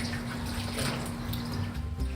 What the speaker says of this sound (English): Catalina washes the cactus with soap and water